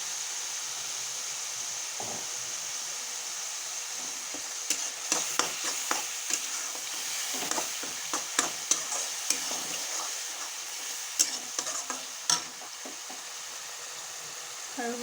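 Jackfruit masala fries with turmeric in oil, a soft steady sizzle under repeated clinks and scrapes of stirring that come in irregular bursts, close and fairly quiet.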